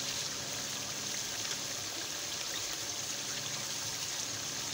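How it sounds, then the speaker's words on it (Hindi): Water pours steadily into gravy in a cooking pot, a continuous soft trickling wash that stays even and fairly quiet throughout, with no talking. "और उतना पानी डाल लेंगे जितनी हमने इसके अंदर ग्रेवी रखी है"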